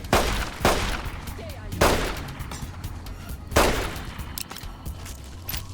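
Gunfire in Fallout: New Vegas, Honest Hearts add-on: three loud, sharp shots spaced roughly two seconds apart, each cracking over a low ambient rumble, with no talking.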